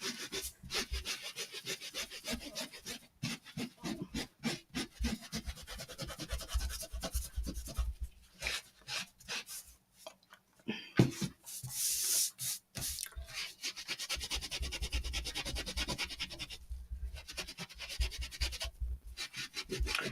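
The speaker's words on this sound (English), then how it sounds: "And then I'm going behind with this wet wipe." Steady rubbing and scrubbing of a wet wipe across antique-finished painted wood, with continuous close friction strokes and brief pauses, and no talking.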